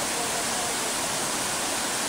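Ouzoud waterfall in Morocco, a roughly fifty-metre drop, roaring as a steady, dense broadband torrent heard close and loud, with no change or pause.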